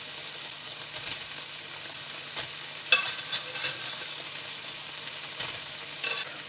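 Part-cooked roast potatoes frying in a pan for a creamy chicken stew, a steady soft sizzle with a few clicks and scrapes of stirring, close and alone.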